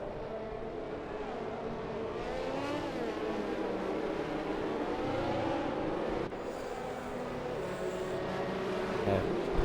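F1 2021 race cars circling behind the safety car at Singapore, a steady engine drone with the pitch slowly rising and falling, heard at a distance and held at moderate loudness, with a faint higher whine appearing near the end.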